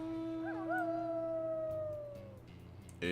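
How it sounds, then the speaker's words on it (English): A wolf from the video game Final Fantasy XIV gives one long, loud howl that rises, wavers and slowly falls away, set against a steady game music bed and ending in a brief burst of noise. "It's a wolf."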